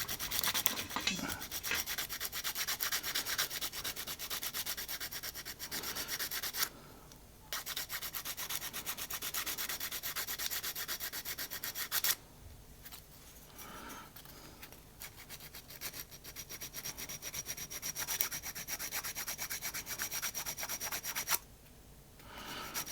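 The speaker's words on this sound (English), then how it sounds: "I've got an 80 grit. And we'll just rub that." Coarse 80 grit sandpaper rubs back and forth over a cast locomotive boiler on a DJH 2MT 2-6-0 model kit, a steady close scraping with a few brief pauses.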